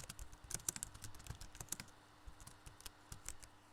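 Keys clatter on a computer keyboard as a file name is typed into a spreadsheet save dialog, quick close clicks in short bursts with brief pauses, quiet and free of speech.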